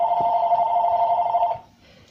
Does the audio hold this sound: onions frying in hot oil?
no